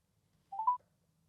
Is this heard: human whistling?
no